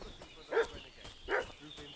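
A dog barks in a village in Kingdom Come Deliverance 2, two distinct mid-range barks spaced under a second apart over a soft ambient background.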